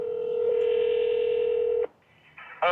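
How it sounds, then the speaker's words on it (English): A telephone dial tone holds steadily for nearly two seconds, then cuts off and a ringing tone begins as the call goes through to an Indian motorcycle dealer. "I'm gonna call the Indian dealer."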